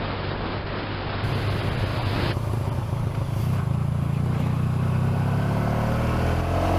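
A Honda Crosstourer motorcycle riding along wet country roads in cold weather, its engine a steady loud rumble mixed with rushing wind noise and tire hiss throughout.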